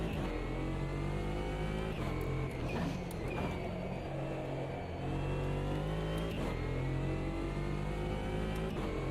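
Race car engine from a racing video game holds a steady, loud drone with rising and falling revs throughout, no voices over it.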